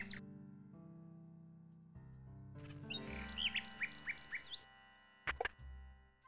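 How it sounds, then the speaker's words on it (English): A mechanical nightingale in the video game King's Quest VI gives bright, quick chirps and warbling trills in the middle, then a sharp final chirp burst, set against sustained background music. "We're gonna trade the tinderbox and get the mechanical nightingale back."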